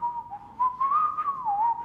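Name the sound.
voice imitating someone whistling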